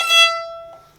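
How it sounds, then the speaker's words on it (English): A violin natural harmonic on the E string rings out as a single bright, pure tone that fades steadily over about a second, heard alone. "So here we have a natural harmonic."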